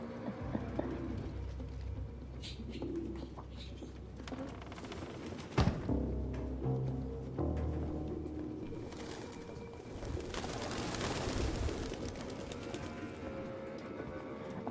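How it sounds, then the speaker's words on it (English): Pigeons cooing in the game Detroit: Become Human, soft repeated coos over a low ambient city bed, with one sharp knock midway and a hissy swell near the end. "I love the pigeons."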